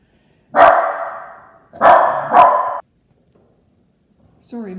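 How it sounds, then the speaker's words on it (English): A dog barks three times close by, loud and full-bodied, the last two in quick succession, followed by a short quiet gap and the start of a voice at the very end. "Sorry, my dog keeps barking."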